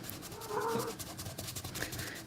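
A cat in an art studio gives a short, close meow over faint background noise.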